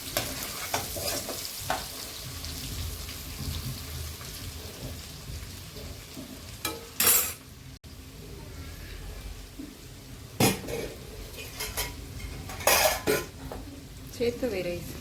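Rice is tipped into a hot frying pan with egg and vegetables and stirred, giving a steady sizzle with sharp scraping strokes and clatters of the spoon against the pan.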